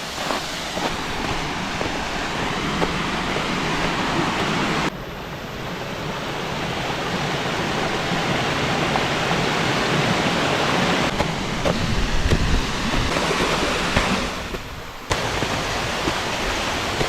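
Waterfall at Kanazu in Niigata, Japan, a steady loud broadband rush of falling water, continuous throughout with slight shifts in intensity and no voices.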